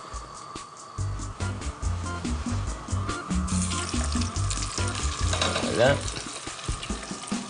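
Fish fillets sear skin-side down in a hot pan, a steady crackling sizzle running throughout with clattering pan sounds and a brief spoken word in a kitchen.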